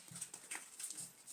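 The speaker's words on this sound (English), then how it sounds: "My dog is groaning because he can hear the window cleaner outside." A pet dog groans and whimpers indoors at a window cleaner working outside, a soft, low, drawn-out series of moans with faint breathy noise, fairly quiet and close, with no talking over it.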